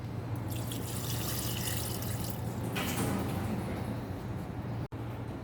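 200 ml of water is poured onto São Simão clay in a ceramics lab, a continuous splashing, trickling pour with a faint hum underneath and a brief break near the end.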